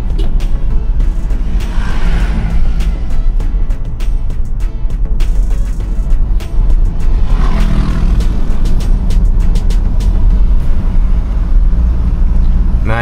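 A Toyota Innova Reborn diesel climbs a steep uphill road in second gear, its engine droning steadily and loudly with a continuous low rumble, heard from inside the cabin.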